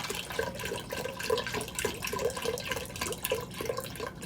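Bone or beef broth poured into a pot for corned beef, a steady liquid splash with rhythmic glugging pulses, close and moderately loud.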